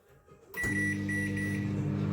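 A microwave oven starts up after a short quiet moment, and its steady humming drone runs continuously and close, with no talking; no clear separate beep stands out.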